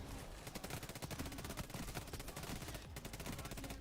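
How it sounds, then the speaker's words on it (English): Dense, rapid gunfire from the video game Payday 3, many overlapping bursts of shots in a continuous barrage with little pause, loud and steady throughout. "It's a lot of bullets."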